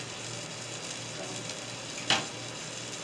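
Pork chops fry in a pan with a quiet, steady sizzle under a low background hum, broken near the end by one brief sharp clack.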